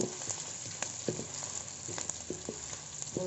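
Shallots sautéing in a pan give a steady, quiet sizzle, with soft scraping stirs and light clinks breaking through at intervals.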